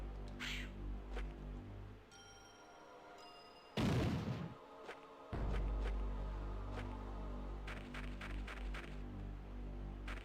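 Bombs going off in the PlayStation game Alundra, one heavy burst of explosion noise that lasts about a second and a half, set amid quieter game sounds and short chirping effects.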